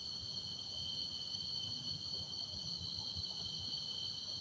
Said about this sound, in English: Now I got this cricket behind me somewhere.